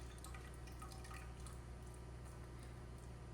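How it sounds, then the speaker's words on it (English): Pork grease poured into broth, a steady wet trickle with scattered drips and splashes over a low constant hum, quiet and continuous with no voices. "Where can I pour the grease?"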